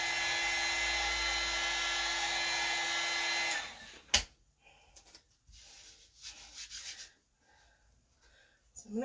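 A hair dryer blows steadily at a craft project for about three and a half seconds, then cuts off, leaving light handling and rustling sounds.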